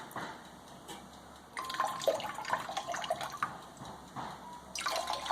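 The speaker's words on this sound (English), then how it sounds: "For rinsing, just pouring the water over the top of it like this." Water poured by hand over a ceramic-plated part to rinse off the excess, a broad wet splashing and trickling that swells after a quiet start, eases briefly and surges again near the end, close and alone.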